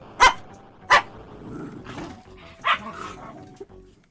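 A dog in an Amiga game barks in sharp, separate yaps, four distinct barks spaced unevenly over a few seconds with soft game sounds beneath.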